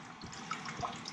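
Water trickles and drips steadily from the return line of a steam boiler as it is drained, a faint, close splashing flow with small irregular drops and no other sounds.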